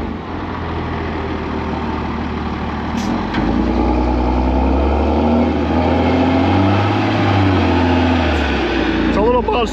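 Bubba Dump, a heavy dump truck, rumbles loud and close as it crosses a ditch and pulls in, its low engine drone swelling and shifting over nearly ten seconds.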